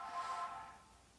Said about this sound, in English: Oh, there goes my phone.